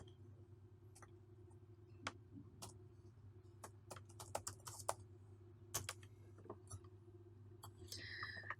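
A computer keyboard clatters under steady typing while a code comment is entered, with irregular bursts of close, crisp key clicks over a faint background hum and no talking.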